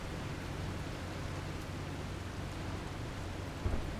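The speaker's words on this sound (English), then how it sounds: "we can't see anything in the storm, but we are in the storm" Storm in The Last Caretaker: steady dense rain hiss with a low rumble of thunder near the end, no voices.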